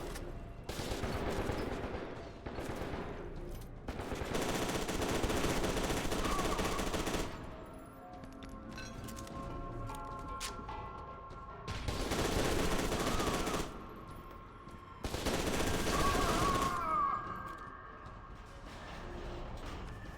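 An automatic shotgun firing in the video game FEAR 2 Project Origin, with several loud sustained bursts of blasts separated by quieter stretches of ambient game noise.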